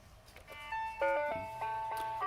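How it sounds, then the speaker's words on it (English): A small Santa figurine with a broken motor plays a tinny electronic melody of clear, bright sustained notes, close and alone with no talk. "It's this little Santa deal here, and it does play music."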